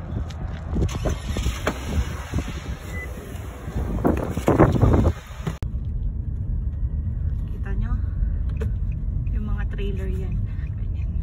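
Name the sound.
trailer truck passing on the road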